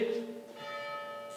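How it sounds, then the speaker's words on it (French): A church bell tolls the seven o'clock hour in the town hall setting of Martel, a sustained ringing tone with a strong opening strike that hangs and decays across the moment. "dès que la cloche aura cessé de sonner le coup de 19h"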